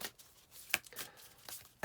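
A deck of cards shuffled by hand, several brief papery riffling bursts close by, with one sharper flutter in the middle and no voices.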